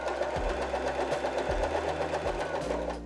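A Janome 311 sewing machine runs steadily stitching a zigzag seam, a close mechanical hum with rapid rhythmic needle clatter and periodic low thumps, slowing slightly at the end.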